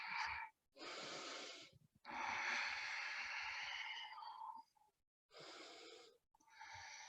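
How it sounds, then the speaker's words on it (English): Deep, breathy yoga breaths come close and loud, long airy inhales and exhales separated by short silent pauses in a slow, even rhythm. "and breathe"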